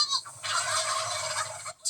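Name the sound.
flock of turkeys gobbling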